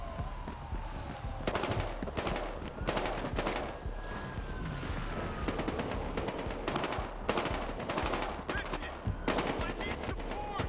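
Sustained machine gun fire and rapid gunshot bursts in the video game Battlefield Hardline, loud and continuous, with shouted voices mixed underneath.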